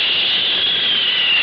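Aircraft engine rushing overhead as a sound effect, a loud, steady, hissing jet-like roar sustained without break and with no voices.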